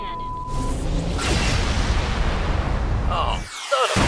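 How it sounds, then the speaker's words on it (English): A main cannon fires in the animated series Red vs Blue, a heavy roaring blast that fills nearly four seconds with dense rumble before cutting off sharply, with a brief voice heard just before it. "Firing main cannon."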